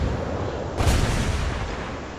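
A battleship-type character in the Azur Lane video game fires her cannon, a single deep booming blast that rises sharply and rolls off slowly, heard alone over a dense, noisy game soundscape.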